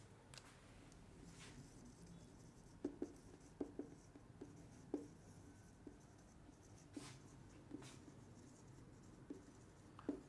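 A pen scratches across paper while lesson notes are written out for a class, faint, with sporadic small ticks and strokes over a quiet room and no talking.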